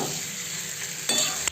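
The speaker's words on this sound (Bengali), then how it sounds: "এদিকে মাংসটা ভালোভাবে ভেজে নিই।" Chicken pieces sizzle in hot oil in a pan while being stirred for a Bengali bahari chicken curry. A steady frying hiss is broken near the end by a couple of quick scraping stirs.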